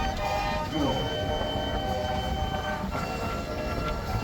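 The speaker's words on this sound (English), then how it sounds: "with a 4-inch full double track compound road locomotive" A 4-inch scale double track compound road locomotive at a steam and country show, a steady loud mechanical rumble with hissing and clanking running throughout, alongside crowd noise and possible faint talk.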